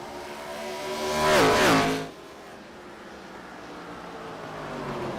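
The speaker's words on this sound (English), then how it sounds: "The fastest car on the racetrack, 17" Race car on the Milwaukee racetrack sweeping past, a loud engine whine rising and falling in pitch as it passes close, then fading into a quieter steady drone of cars further away.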